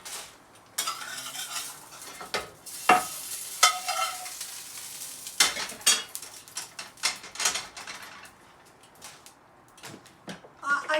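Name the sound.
pork sizzling in a pan with a little oil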